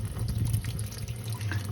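Water from a tap splashes and rushes steadily over a Dyson Micro 1.5kg vacuum filter being rinsed, close and fairly loud, with no speech.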